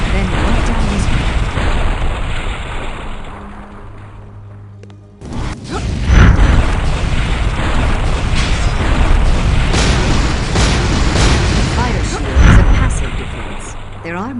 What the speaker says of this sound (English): This trap is the deadliest weapon. A stream of fireballs prevents anyone from going further.